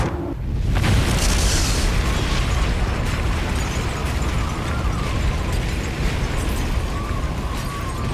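Nuclear missile explosions roar as a dense, continuous wall of booming rumble and crackle that swells at the start and stays loud and sustained throughout.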